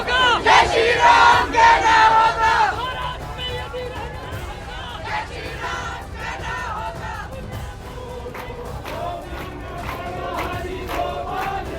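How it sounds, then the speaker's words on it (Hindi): A large crowd of protesters chanting and shouting at a demonstration against mosque construction in Sanjauli, loudest at the start, then a sustained babble of many voices with occasional calls. "बड़ी संख्या में लोग यहाँ पर मौजूद हैं, प्रोटेस्ट कर रहे हैं पूरे संजौली जामे में"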